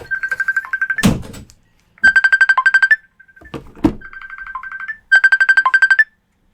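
A phone ringtone plays in repeated pulsing bursts, with thumps and faint handling sounds in between, close and clear.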